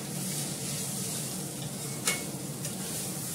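Chowmein stir-frying in a pan, a steady close sizzle with stirring scrapes and a sharp clink about two seconds in, heard alone with no talk.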